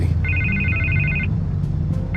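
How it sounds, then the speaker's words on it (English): A telephone rings with a long electronic trill, pauses, then starts a second ring, loud and close over a low room hum, with no voices. "I can't get the phone to stop ringing."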